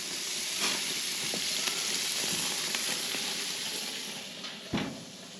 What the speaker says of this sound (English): I want it to really cook the hell out of that bacon